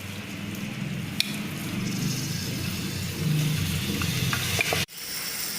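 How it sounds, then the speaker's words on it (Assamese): Rice sizzles steadily in a hot pan for pulao while it is stirred, with occasional scraping clicks and a brief clunk near the end. "এতিয়া আপোনালোকে দেখিব পাইছে যে মই চাউলবিলাক বহাই দিছোঁ।"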